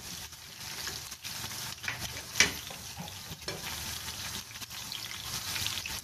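Crispy chicken pakoras being lifted out of hot frying oil, with steady close sizzling and bubbling under light stirring and scraping, plus a sharp metallic clink partway through.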